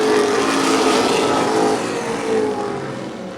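Pro-stock race cars roaring around an oval track in a pack, engines droning loud and close before fading slightly as they pass.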